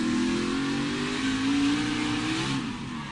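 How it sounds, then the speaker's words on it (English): A NASCAR race car at Martinsville Speedway during the 2017 First Data 500 roars continuously. The engine is loud and close as the throttle climbs, with its pitch rising and holding steady for the whole stretch. "Riding along, you listen to the throttle."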